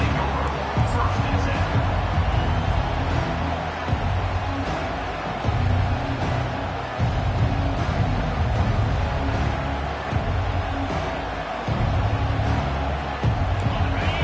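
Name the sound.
stadium crowd noise in College Football 25 video game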